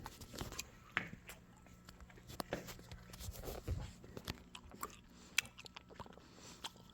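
Someone chewing a piece of sugary gum up close, soft irregular wet clicks and mouth sounds spread over several seconds, faint and quiet.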